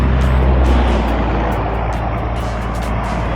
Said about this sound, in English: we got some cars